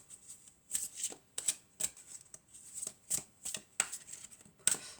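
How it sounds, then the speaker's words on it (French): Tarot cards slid and drawn one at a time from a deck, a steady series of crisp, close papery swishes and flicks with short pauses between them, no voices. "Donc je vais prendre 3 cartes."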